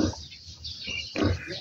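A sow grunting and oinking close by, two short, rough grunts separated by a brief pause.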